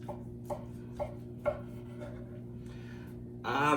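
A knife cuts through a pastry breakfast sandwich in a home kitchen, giving four sharp, evenly spaced crunchy strokes close by over a steady low hum, followed by a louder rustle at the end.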